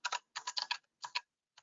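Rapid clicks of fingers typing on a computer keyboard, close and crisp, in short bursts of several keystrokes separated by brief pauses, with one lone tap at the end.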